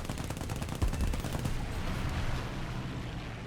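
A rapid, continuous burst of aircraft gunfire from a Mosquito in War Thunder hammers loud and close, its stuttering rhythm blurring into a dense roar that tapers off while engine noise continues.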